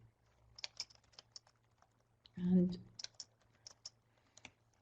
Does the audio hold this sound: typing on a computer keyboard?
yes